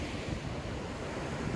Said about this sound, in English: That's the Atlantic Ocean out there.